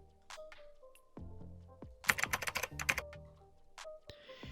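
Typing on a computer keyboard, entering a search term: a quiet scatter of key taps that gives way to a fast, dense burst of clicks in the middle, then a few more isolated presses, with no voices.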